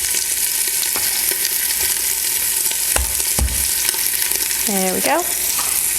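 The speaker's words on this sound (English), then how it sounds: "Give that a bit of a sear." Beef sears in a pan inside an Instant Pot, a loud, constant sizzle with scattered clinks and scrapes of stirring, and a voice speaks briefly near the end.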